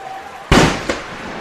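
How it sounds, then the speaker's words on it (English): A cannon fires at a high school football game after a touchdown, one loud booming blast followed by a second, weaker report, with crowd noise and faint commentary beneath. "There's the cannon."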